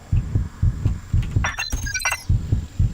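Low-health heartbeat from the video game Just Cause thumps in a steady double-beat rhythm, loud and close, while brief metallic clinks and game effects flicker over it.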